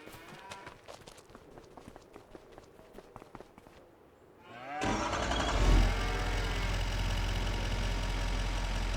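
Hungry cattle in a crowded barn in a farming game, low lowing and shuffling over a steady machine drone that rises abruptly halfway through and holds loud, with scattered clicks and steps earlier.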